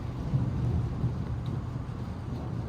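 Steady low rumble of a thunderstorm near a tornado, with continuous heavy rain or wind noise and rolling thunder, loud and unbroken throughout.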